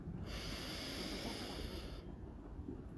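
A deep, steady inhalation through the nose during a breathing exercise, a long close airy rush lasting about two seconds, then fading to quiet.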